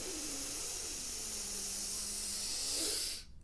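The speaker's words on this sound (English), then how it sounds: "Breathe in." A long, slow breath drawn in during a guided meditation, a steady airy hiss lasting about three seconds over soft, humming background tones, then cutting off abruptly.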